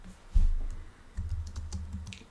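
Typing on a computer keyboard at a desk, with a few separate clacking keystrokes and short clustered bursts of key presses, close and fairly quiet, with no voice.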